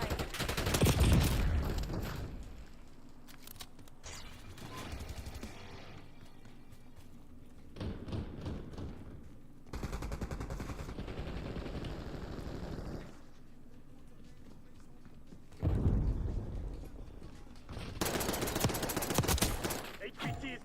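Bursts of video game gunfire, loud rattling volleys and single shots coming in separate clusters, with quieter gaps of background game sound between them.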